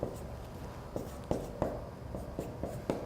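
Pen or marker writing out a math solution by hand, a quiet, close series of scratchy strokes and light taps in an uneven rhythm.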